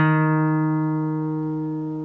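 A single guitar note picked on the 1st fret of the D string rings out alone and slowly decays over about two seconds, clear and close with steady harmonics.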